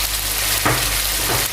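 Squash dropped into a pan of pinakbet cooking in pork fat gives a loud, continuous close sizzle and frying hiss, with a brief stirring clatter partway through.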